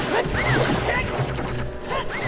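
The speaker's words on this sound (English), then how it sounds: "It's just so fun just smashing a hammer up and down like into these guys." Hammer smashes against enemies in Zelda: Ocarina of Time, several loud game impact crashes over busy game sound effects.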